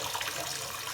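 Water pours steadily from a newly installed bathroom faucet into a sink. The stream is a close, loud, continuous hiss, with no talking.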